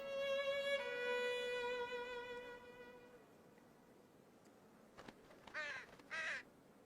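A little crow in the Australian wild gives a long drawn, wavering call that fades out, then after a quiet gap, several short harsh caws in quick succession, faint and somewhat distant against light outdoor ambience.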